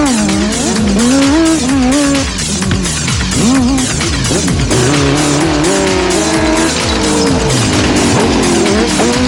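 A high-performance prototype racing car roars through the Fouron countryside, its engine loud and close, revving up and down through gear changes with rising and falling pitch over a constant road roar.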